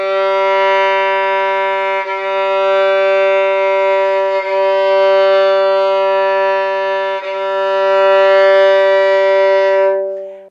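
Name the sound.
violin G string played for tuning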